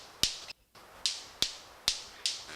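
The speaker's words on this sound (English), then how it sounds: "He's slapping the top surfaces of wings together to make that snap." A male manakin makes sharp wing snaps by slapping the tops of his wings together, five crisp, loud, isolated cracks spaced about half a second apart with a brief silence after the second.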